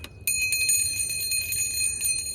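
A small cleansing bell is rung with rapid repeated strikes, producing bright, shimmering metallic tones that ring on together, close and clear with no voices.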